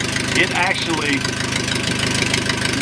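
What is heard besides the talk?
4a084 aircraft engine accelerating to full throttle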